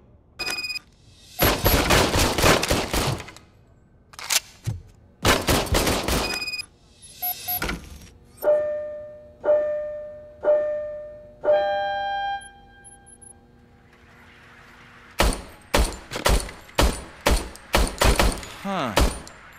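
An old service pistol in RoboCop: Rogue City fires in sharp bursts of loud gunshots with gaps between them, followed by clanging mechanical tones and then a rapid string of shots.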